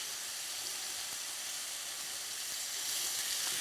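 Egg whites searing in a hot pan give a steady, close sizzling hiss that holds even and continuous throughout, with no voices.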